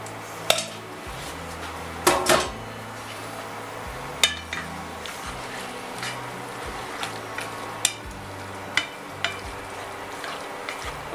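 Pasta dropped into a pan of bacon and mushroom cream sauce, with scattered clinks and scrapes of a utensil against the pan over a low steady kitchen background, no talk.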